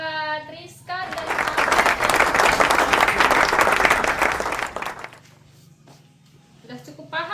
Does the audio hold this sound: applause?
yes